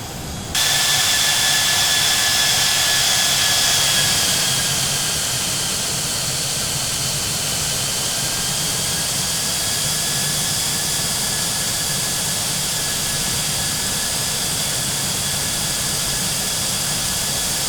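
Douglas DC-8 jet engines in a flight simulator roar loudly and steadily, a sustained whine over broad rumble that rises at the start and then holds for a long stretch.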